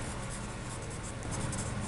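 A drawing tool scratches steadily across white paper in a continuous, even rhythm, close and fairly quiet, with no voices.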